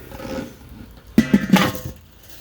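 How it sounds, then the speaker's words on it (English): The metal lid of a Weber 22-inch charcoal grill is set down, a quick run of clanks and scrapes after a quiet pause, close and fairly loud, with no talk over it. "yeah, we're gonna throw the lid on"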